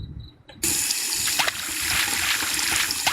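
A tap switches on abruptly while washing the face in the Indian horror video game Ajnabee, then water runs in a steady, loud splashing stream.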